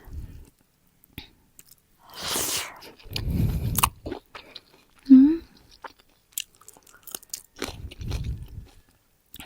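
Someone biting and chewing food, with a few crunchy bites and chewing sounds between pauses and bits of quiet speech, close up.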